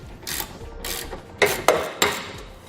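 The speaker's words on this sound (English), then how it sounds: "Then we'll begin to tighten down that forward nut to expand that insert." Ratchet tightening the forward nut of a Westin Pro Traxx nerf bar bracket on a 2014 Ram 2500, a run of quick clicking bursts with a few sharper clicks near the end, close and clear.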